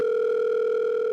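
Steady telephone dial tone heard while calling friends, a continuous unbroken electronic hum held at constant loudness throughout with no voices.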